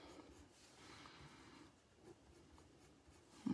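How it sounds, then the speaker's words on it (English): Watercolor pencil drawing lines on paper flower petals, soft faint scratchy strokes in short repeated passes, close up and quiet. "I am just basically drawing lines on each petal"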